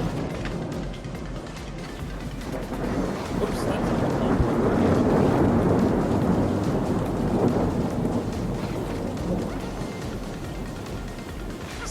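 Thunder rolls long and heavy in a thunderstorm within the Paper Mario: The Thousand-Year Door remaster, a deep rumble swelling to a peak midway and fading, with rain hissing underneath.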